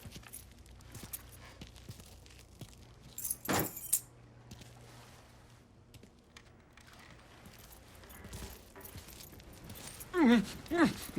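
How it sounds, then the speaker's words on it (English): Keys jangling in the Mafia III video game, several short metallic rattles amid quiet ambient background and soft footsteps, with a louder clinking burst near the end. "Hey, man, grab those keys."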